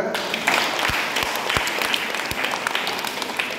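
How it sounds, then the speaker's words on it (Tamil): An audience at a Sunday catechism annual day event bursting into applause, dense hand clapping that holds steady and fairly loud throughout, with a few sharper individual claps standing out. "கை தட்டுங்க"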